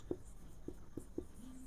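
Marker or chalk strokes on a classroom board during a Class 8 maths lesson, a few faint, scattered taps and scratches spaced irregularly, quiet and close, with no talking.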